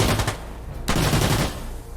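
Rapid gunfire in the video game Sandstorm, a loud near burst of shots with a brief gap and then more firing in quick succession.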